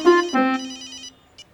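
A phone ringtone plays a short bright melodic phrase of sustained tones, loud and close, then fades out with a brief final blip.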